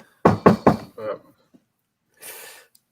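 Three loud, close knocks on a door in quick succession, then a softer fourth thud, followed after a pause by a brief rustling scrape.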